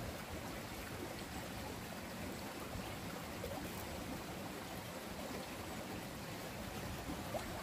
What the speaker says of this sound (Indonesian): Dan di sini juga ada sungai tuh ngalir.